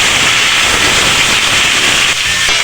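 Meat and vegetables for ginisang pakbet sizzle hard in a hot pan, a loud, dense, continuous hiss that holds steady throughout with no voices.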